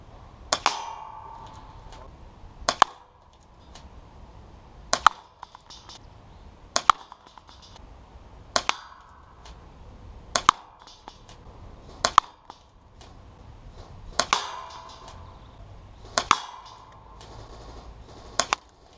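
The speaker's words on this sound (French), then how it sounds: "on va donc passer à un test de tir à la B0 20 grammes à une distance de 25 mètres" A Swiss Arms full-stock airsoft shotgun fires 0.20 g BBs at a target 25 metres away, about ten sharp, separate shots spaced a couple of seconds apart, each a crisp snap with a short ringing tail.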